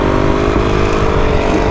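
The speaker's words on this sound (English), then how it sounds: "I can try to do a wheelie where I stay kind of loose on the bike" Motorcycle engine held at a steady drone while the bike is ridden on its rear wheel in a wheelie, loud and continuous with a constant engine hum throughout.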